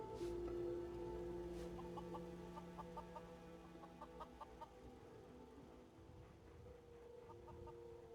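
Chickens cluck in a small settlement pen in Fallout 4, a series of soft repeated clucks over a steady low hum of game ambience, with no talk.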